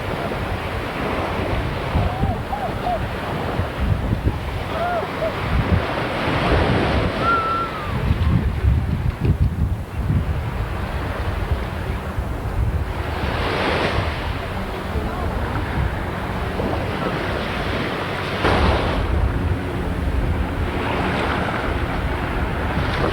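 Calm ocean waves wash against a private beach in a Bahamas cove, with a soft continuous surf and occasional swells breaking nearby, along with steady wind buffeting the microphone and faint distant voices.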